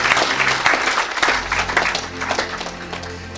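A church congregation applauding, dense continuous clapping from a crowd with some cheering voices mixed in, loud and close, steady throughout.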